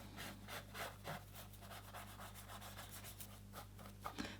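A scraper works up year-old texture paste from a painted art surface in quick, repeated rasping strokes, close and fairly quiet, over a low steady background hum.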